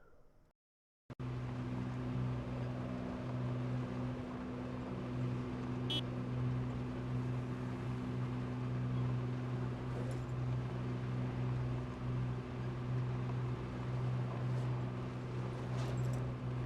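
A vehicle in a zombie survival video game rolls along slowly, its engine a low, steady, even hum that runs on continuously at moderate volume after a brief silence.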